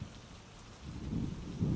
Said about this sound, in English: Wow, it's kind of a spooky rainy night.